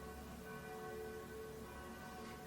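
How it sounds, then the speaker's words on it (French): Cathedral church bells ring steadily with a sustained, resonant tone that stays at a constant moderate level and is not interrupted by any speech. "est-ce qu'on peut avoir un peu moins de cloche, s'il vous plaît? Madame la cathédrale."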